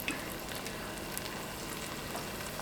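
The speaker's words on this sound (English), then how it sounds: "So we're gonna let that saute for a little bit" Green seasoning sautéing in salted butter in a pan, a soft, steady sizzle and crackle with faint pops, close and quiet, with no voices over it.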